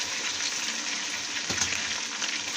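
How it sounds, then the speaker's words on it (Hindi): Half a kilo of meat dropped into a cup of hot oil fries with a steady, bright sizzle and hiss, close and continuous, with a brief louder crackle partway through; no voices. "1 कप ऑयल का लिया है, वो गर्म हो गया। अब इसमें हम आधा किलो गोश्त है वो डाल देंगे"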